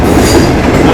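The Khyber Mail passenger train rolls through a railway yard in a loud, close, steady rumble of wheels on track.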